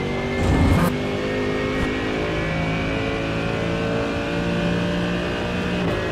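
A racing car in a sim racing video game, roaring at full throttle: loud, sustained engine note holding a high steady pitch after a brief burst near the start, close and continuous with no voices.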